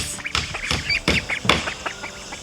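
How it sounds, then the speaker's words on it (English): Young Rouen ducks, six in a muddy backyard pen with a pool, quacking and peeping close by in a quick run of overlapping calls. "We have 6 roan ducks"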